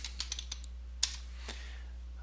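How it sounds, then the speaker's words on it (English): Computer keyboard typing as tags are entered, a quick run of crisp key clicks with one louder tap in the middle, close and alone over a low hum. "we'll type in some tags that are appropriate, like Atlanta Braves"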